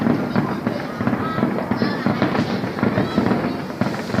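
Fireworks crackle and thump in a continuous barrage, with dense bursts layered close together, while people chat over the noise.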